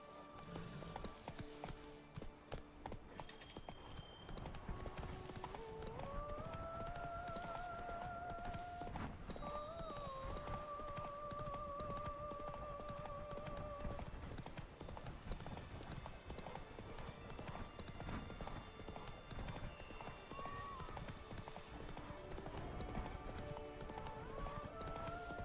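Horse hooves clip-clop steadily at a riding pace in Witcher 3: Blood and Wine, a continuous rhythmic trot with a whinny and musical tones in the background.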